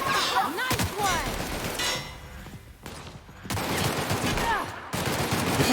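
Gunfire from a firefight in the video game The Outer Worlds: rapid bursts of automatic shots and sharp cracks in quick clusters, loud and close, with short pauses between volleys and brief voices over it.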